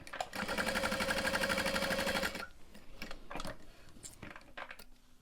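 A sewing machine stitches slowly around the bottom curve of a fabric bag, a close, even, rapid mechanical whir for about two seconds, then stops, followed by scattered clicks and light handling noises.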